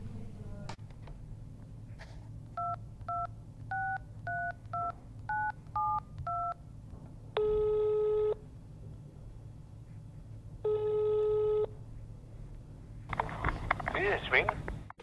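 A telephone number is keyed in, with a quick series of separate dialing beeps, then two long, steady tone bursts separated by a pause, all close and clear, ending in a brief burst of noise.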